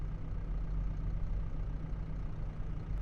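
A tractor engine idles steadily in Farming Simulator 25, a low continuous diesel rumble running evenly throughout with no talk over it.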